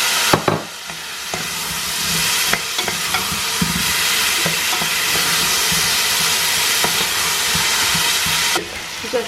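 Potatoes sizzle and fry steadily in olive oil in a pan, a loud continuous hiss with occasional clicks and stirring knocks, close by and with no talking.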